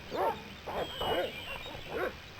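Dogs bark in the 1996 point-and-click video game Broken Sword, four or five distinct yapping barks in an uneven rhythm, moderately close and fairly faint, with no talking.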